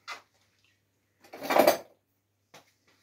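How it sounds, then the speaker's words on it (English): Scooping a chocolate eggnog mixture with a kitchen scooper: a brief clink at the start, a louder scraping, clattering scoop in the middle, then a couple of faint taps, all close by with no talk. "I'm just literally going to scoop it with a scooper"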